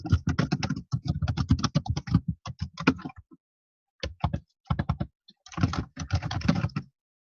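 Rapid clattering keystrokes on a computer keyboard come in bursts, with a short pause midway before the typing resumes, close and fairly loud.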